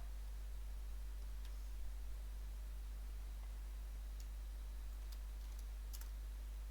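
Computer keyboard arrow keys tapped to nudge graphics into place, a few faint scattered clicks over a steady low hum and hiss, with no voices.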